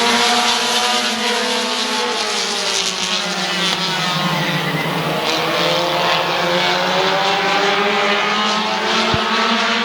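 Race cars roar around Midvale Speedway's oval in a continuous loud, multi-engine drone, with rising and falling engine tones as the cars run side by side through the turn, close and steady throughout.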